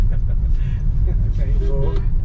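A car cruising slowly and gently along a city road past the Bamkhana bus stop, its steady low engine and road rumble running close and continuous beneath people talking inside.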